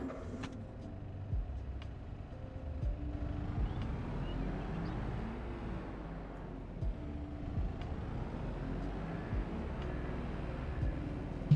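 A grass working vehicle towing a small solid fertilizer spreader in Farming Simulator 22 drones along with a steady low engine rumble and mechanical rattle, rising and falling slightly in pitch as it drives.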